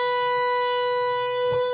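A single electric guitar bend on the B string rings out as one clean, sustained note, loud and close, with faint string noise near the end.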